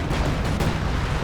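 Katyusha rocket artillery in a Company of Heroes 2 battle, a dense continuous roar of launches and explosions with a sports-style commentator talking over it.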